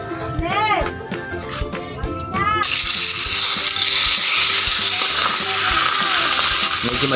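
Kanduli fish frying in hot oil, starting with clattering and a voice, then a loud continuous crackling sizzle that swells and fills the rest, close by.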